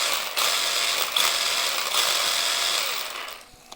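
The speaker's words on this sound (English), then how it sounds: "Most of the noise is mostly from the shaking of the wheels." A Tamiya TT-02 RC car drivetrain whirs and rattles with a gear-diff buzz and shaking wheels, a continuous close mechanical grinding that trails off just before the end.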